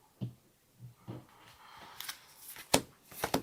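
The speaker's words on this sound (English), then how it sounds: "I would like Brian to shuffle the Nazguls." Nazgul cards from a War of the Ring card game are shuffled, giving soft scattered taps and riffling flutters that grow busier and sharper toward the end, heard alone at low volume.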